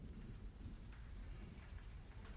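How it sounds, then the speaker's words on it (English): Rain falls steadily under a low, rolling rumble of thunder, a faint, continuous stormy ambience for a fantasy tabletop scene with no voices. "you start hearing bellowing, like rumbling of thunder"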